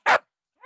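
A dog barks once, loud and right next to the microphone during a podcast, followed after a pause by a softer, shorter yip.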